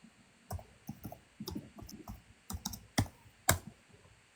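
Quick bursts of keystrokes tap out a message on a computer keyboard, close and fairly quiet, in uneven clusters with a couple of sharper key clacks near the end.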